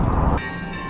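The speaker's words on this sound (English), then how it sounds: "on perfect time because the bells are going off now" Cathedral church bells ring out after a brief burst of outdoor background noise, their sustained tones hanging steady and moderately loud for under a second.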